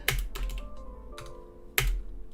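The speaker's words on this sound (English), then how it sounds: "I'm typing it into chat right now" Typing on a computer keyboard into a chat, soft close keystroke clicks in small irregular bursts with quiet gaps and a faint steady hum underneath, no voices.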